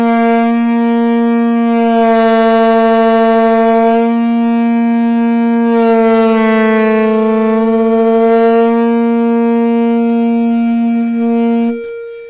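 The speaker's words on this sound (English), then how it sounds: "I have this option on my tuner to produce a sound. So I'm going to produce a concert B flat." An electronic tuner drone sounding concert B flat, with a saxophone joining on the same pitch, one steady sustained tone for about twelve seconds, loud and close, the blended timbre shifting slightly as the sax tunes against it.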